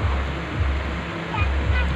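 Water in the Bogowonto river rushes steadily with a low, continuous roar and a soft surf-like wash, heard alone at a moderate distance.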